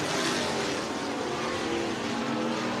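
Stock cars race at Hancock County Speedway, engines roaring loud and steady as the pack thunders past up close, a dense continuous wash of engine noise.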